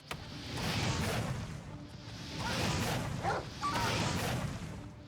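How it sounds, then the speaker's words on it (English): A dog barks repeatedly in the fantasy video game Oblivion Remastered during a fight, its yips mixed with swooshing weapon swings and crashing impacts over loud game ambience. "I hear a dog."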